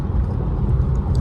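Steady low rumble of a Mercedes C300 driving at speed, heard from inside the cabin as a continuous, loud engine and road drone.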